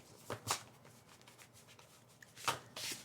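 Playing cards shuffled in short riffling bursts, close and crisp, with a few softer taps and rustles between, no voice over them.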